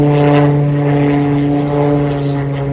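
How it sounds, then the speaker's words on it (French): A propeller airplane drones overhead in a loud, steady hum with a strong low tone that holds without break, nobody speaking. "Un avion."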